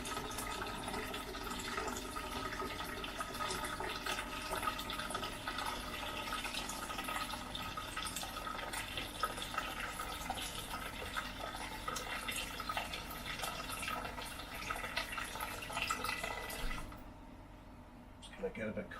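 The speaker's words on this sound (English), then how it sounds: "Just going to get a bit of cold water to add in there" Cold water running from a tap into a 50-litre BrewDevil brewing system, topping up the sparge water; a steady, continuous splashing fill close by that goes on throughout and cuts off near the end.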